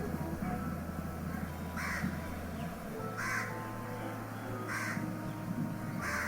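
Crow-like bird cawing in the video game Beast of Bermuda, four harsh caws spaced roughly a second apart over a steady low wind or ambient drone.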